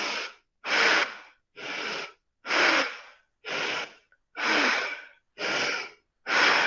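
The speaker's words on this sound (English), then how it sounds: "moving the belly in and out and doing the full Bhastrika breathing" Rhythmic Bhastrika yoga breathing with the belly pumped in and out: eight forceful, evenly spaced breaths about a second apart, each a loud, close, rushing whoosh separated by brief silences.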